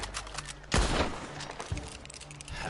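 Gunfire in the Red Dead Online video game: a sharp, loud shot bursts out near the middle, with scattered quieter shots and crackles around it over a steady game background.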